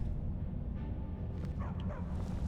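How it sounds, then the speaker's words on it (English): Dogs in Skyrim bark and yip in a few short, anxious bursts, moderately distant over a steady background hum of game ambience. "Don't mind the dogs. They get anxious when they haven't had dinner."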